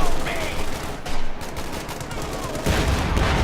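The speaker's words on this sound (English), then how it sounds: "MG42, suppress that" MG42 machine gun fire in Company of Heroes 2, a 4v4 match on a muddy map, with bursts of rapid gunfire and battle noise filling the mix, loud and continuous, some faint voices underneath.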